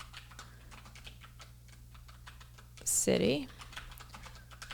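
Someone types quickly on a computer keyboard, making a stream of light, close clicks. A short spoken word cuts in partway through.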